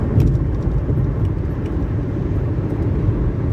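A car drives through traffic in Louisville, Kentucky, giving a steady low rumble of engine and road noise from inside the cabin, with faint clicks now and then and no talking.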